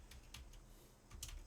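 Quiet typing on a computer keyboard while entering commands in a hacking lab: a few scattered soft keystrokes, close but faint, over a low hum, with no one talking.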